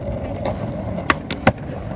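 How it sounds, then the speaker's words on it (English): A skateboard ollie: two sharp pops of the deck, the second louder, set against steady background noise with no talk. "Then I popped this ollie."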